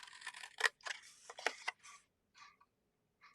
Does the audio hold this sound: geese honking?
no